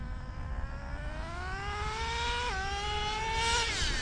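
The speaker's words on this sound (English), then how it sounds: "Half the fun is listening to that second gear kick in." A nitro Traxxas RC drag car with a two-speed transmission whines up through first gear, then drops pitch abruptly as second gear engages and climbs again, a buzzing high-revving engine heard continuously and fairly close, with no talk.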